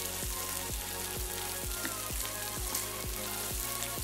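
Food sizzles in butter in a big pan: a steady, dense frying hiss runs throughout, with a regular low thump repeating about twice a second underneath.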